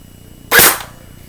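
A small motor in the grip of a Lightning gel blaster twitches once, a single sharp burst that fades quickly, close and fairly loud with no talk over it.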